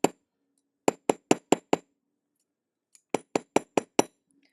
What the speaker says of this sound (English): making hammer marks with this big hammer is literally effortless